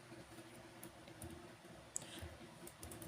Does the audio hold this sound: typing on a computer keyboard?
yes